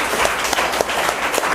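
A crowd of school students at a quiz event clapping together in dense, loud applause that holds steady throughout the short moment.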